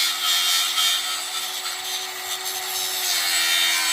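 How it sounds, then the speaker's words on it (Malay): An angle grinder cuts through a pipe with a steady, harsh, high-pitched grinding that holds at an even loudness for several seconds, with no speech over it. "Potong pun pakai grinder bagi bersih"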